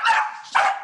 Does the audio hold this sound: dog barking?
yes